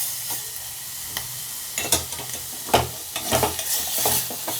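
Kalakand sweet mixture with sugar is stirred and mashed in a pan on the stove, a soft continuous sizzle broken by repeated scraping strokes and small clacks of the spoon against the pan, close and fairly loud.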